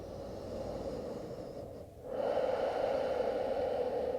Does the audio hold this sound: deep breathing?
yes